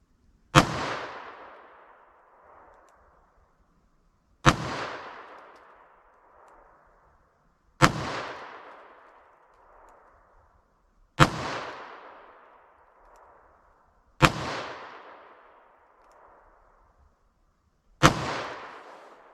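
.38 Special lead round-nose rounds fired from a revolver at a paper target: six loud, sharp shots spaced about three to four seconds apart, each with a ringing decay, no voices.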